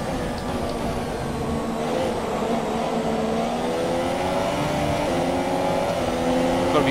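Renault Formula 1 race car engine in the F1 2017 game at the Bahrain Grand Prix, a steady, loud high-pitched drone holding near constant with slight rising pitch sweeps throughout.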